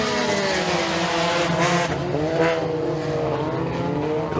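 Race cars in a heat race at Stateline Speedway roar together in a loud, sustained engine drone, with pitch rising and falling as they run through the corners.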